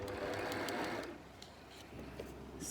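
A sewing machine runs steadily, stitching a line along a zigzag on shiny, silky hair weft material, a close continuous mechanical whir with a slight change in pace partway through.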